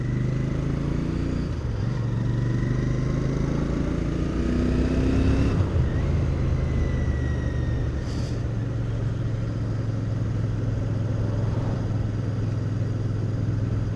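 A Royal Enfield Bear 650 motorcycle riding along UK roads, its engine droning steadily up close while the pitch rises and falls as it shifts and changes speed, under a constant rush of wind.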